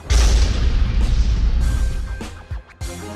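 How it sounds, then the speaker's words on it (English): Loud, deep boom from an explosion aboard the Apollo 13 spacecraft, a sustained rumbling blast that fills the first two seconds, then fades into scattered thuds and softer rattling noises. "They had been carrying out routine checks when there was a loud bang."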